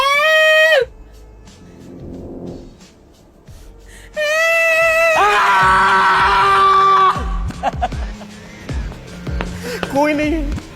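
A person screams loudly in distress, with long, high sustained cries broken by gasps and sharp yells, alongside a raised voice nearby.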